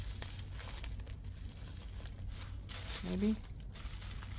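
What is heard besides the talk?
folding the back of a recycled-trash mini journal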